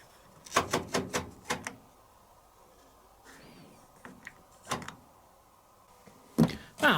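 A drawer sliding out of a 1979 Bosch VT595 condenser washer dryer, heard as a run of close, sharp rattling clicks and knocks, then a quieter scrape and a few more hard taps near the end.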